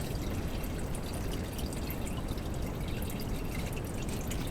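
Automatic transmission fluid flowing out of a loosened pan on a GM Buick into a catch pan, a continuous splashing, trickling pour heard close and steady, with no talking.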